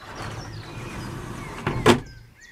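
Sliding door in the bedroom of a Hobby ONTOUR C 700 GQ caravan, a low rumbling glide under soft room noise, then a short sharp knock as it closes.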